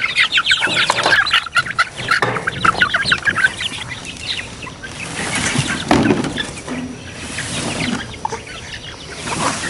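Chickens cluck steadily inside an off-grid stall barn, a busy flock of overlapping clucks and squawks filling the space close by, with constant rustling and movement beneath.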